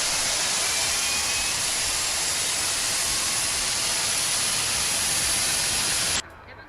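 Broadband jet engine roar from the number four engine of a classic Boeing 747 in X-Plane 12, a steady loud rushing hiss as it spools up on start, holding level before cutting off abruptly near the end.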